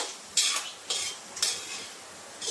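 Dinuguan cooks in a pan while being stirred, four distinct scraping strokes with a faint sizzle between them, close and without talk.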